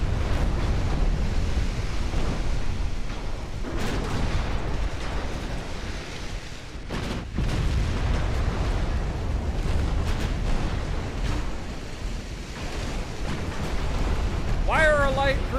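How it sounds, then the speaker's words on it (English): Battleship gun salvos in a naval battle game boom out as heavy, broadband blasts over a constant roaring wash, with several sharp reports standing out and a loud continuous rumble throughout. "This next salvo should finish it."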